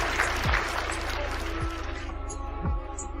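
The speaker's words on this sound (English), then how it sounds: "Give her a round of applause, please, Annie." Clapping from a small group at an online gathering, a brief round of applause with scattered thumps, mid-level and fairly close, fading slightly toward the end.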